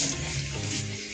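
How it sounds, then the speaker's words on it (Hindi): Water runs steadily from a tap, a continuous close splashing rush with no pauses across the short stretch. "पानी चल रहा है"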